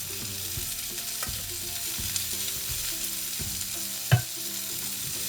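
Shallots frying in a pan with asparagus piled on top give a steady close sizzle, broken by a few soft knocks and one sharp clatter near the end, with no talking.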